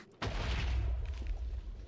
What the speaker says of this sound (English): I hear lots of explosions.